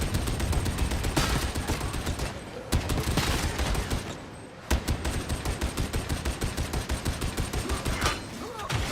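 Heavy Ogryn weapon firing in Warhammer 40K Darktide, a dense rapid stream of loud gunshots in long bursts, broken by a short pause before the barrage resumes.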